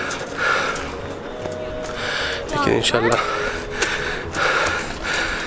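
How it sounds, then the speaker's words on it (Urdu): Close, heavy panting from someone worn out after a tough hike, with loud gasping breaths that carry on as someone speaks briefly between them. "سانس پھول رہا ہے"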